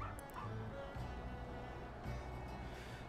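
A pup in the video game Final Fantasy XIV gives a few short yips and barks, soft and fairly faint against a steady background bed.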